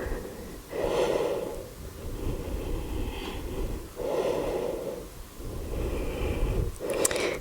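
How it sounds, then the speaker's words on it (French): Slow, deep breathing during a yoga stretch aimed at the splits: several long, audible inhale-exhale cycles with a hissing, slightly snorting quality, close and steady, no talking. "Et on respire dans la posture"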